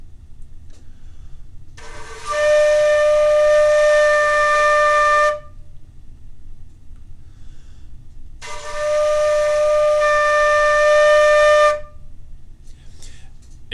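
Two long, steady D notes on a flute, each held for about three seconds with a pause between them, clear and close over faint room hiss, with no talking.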